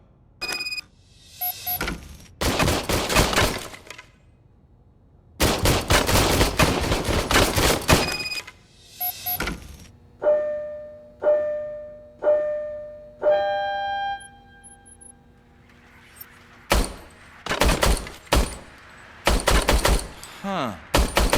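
Gunfire from an old service pistol in RoboCop: Rogue City: repeated loud bursts of rapid shots in several volleys, broken by bright ringing, chiming tones and clicks between them, with a brief spoken voice.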